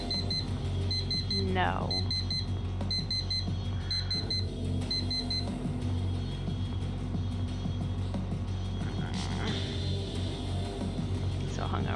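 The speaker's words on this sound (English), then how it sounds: "This fucking alarm clock." Repeating electronic alarm clock beeps in the video game Actual Sunlight, sounding in short bursts over a steady low hum with game ambience and a voice talking throughout.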